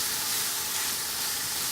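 Sausages frying in a pan for gumbo, a steady, close sizzle and hiss that runs on without a break and with no talk.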